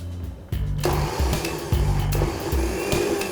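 A kitchen grinder coarsely grinding chana dal with garlic, mint and jeera starts up with a loud motor whir after a brief pause and then runs steadily, its pitch dipping and surging in pulses as the load shifts.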